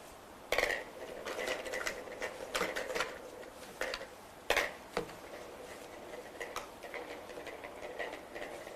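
Plastic draw balls rattle and clack together inside a pot at a women's Olympic football qualifiers draw, a run of sharp uneven ticks with a few louder knocks, fairly close and quiet.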